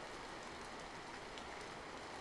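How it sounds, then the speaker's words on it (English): Steady rain falls as an even, soft wash of hiss, constant and unbroken, faint and with no other sounds standing out. "the rain falling in a steady, rhythmic pattern, the wind whispering softly through the trees"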